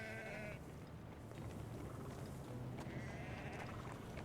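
Sheep bleat in the city-building game Anno 1800, a couple of wavering baa calls heard over a busy ambient hum of in-game activity.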